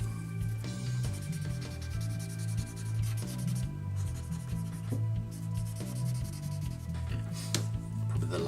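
Quick pencil strokes sketch lines on paper for a perspective drawing, a close, dry scratching that repeats in short, rapid bursts.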